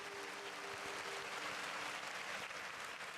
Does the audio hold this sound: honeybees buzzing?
no